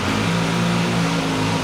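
Suzuki GSX-S 1000 motorcycle with a stock exhaust, engine held at a steady, loud rev with a smooth, continuous drone throughout and no talking.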